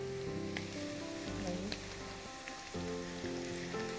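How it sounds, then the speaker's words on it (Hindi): Chopped garlic sizzling and frying in a pan, a steady crackling hiss with light stirring, close and continuous. "थोड़ा सा लहसुन डालकर इसको भी ब्राउन करेंगे"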